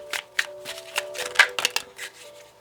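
Tarot cards are riffled and shuffled in a rapid series of crisp, close flutters and taps, with a faint steady hum underneath.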